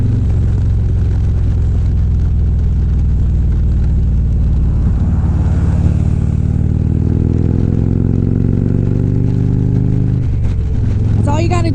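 Motorcycle ride with a Chevy car driving close behind: steady loud engine drone and wind roar throughout, with a rising engine pitch near the end.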